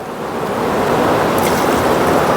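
Wind blowing across a mountain campsite near Yamunotri where a small camping stove is set up, a loud, steady rushing roar buffeting the microphone throughout, with no voices.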